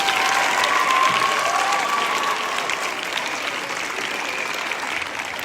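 Sustained audience applause fills a school assembly hall at an end-of-year all-school gathering, as a Christian academy crowd claps to congratulate a teacher; steady, dense clapping that fades slightly toward the end.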